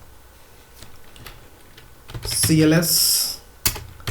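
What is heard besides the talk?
typing a QB64 program on a computer keyboard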